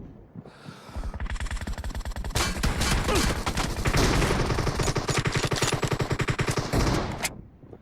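Gunfire from an M24 rifle in a video game: a dense stream of loud, rapid shots continuing for several seconds before cutting off.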